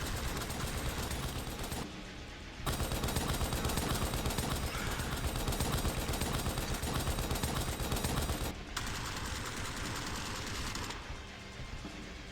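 Dense continuous gunfire in a shooter video game, loud rapid automatic fire sustained throughout with brief dips, close and with no talk.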